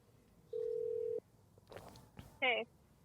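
A phone call coming through from a wife, heard as a steady electronic tone lasting about half a second, then faint clicks and rustle, then a brief warbling ring burst at the end.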